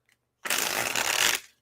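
A deck of tarot cards is shuffled in one continuous riffling burst of about a second, close and clear, with no talk.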